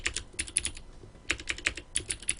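Keys on a computer keyboard are tapped in quick bursts of clicks, three clusters with brief pauses between, close and crisp, with no voices.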